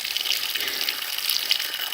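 A small stream used to irrigate a cucumber patch and lanzones trees, flowing with a steady, hissing rush of water, close and continuous with no voices.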